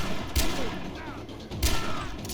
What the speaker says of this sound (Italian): Mamma mia, che colpi, che colpi